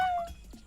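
A human voice imitating a cat's meow, a short high wavering call that slides downward and fades, followed by a softer second mewing sound, close and alone.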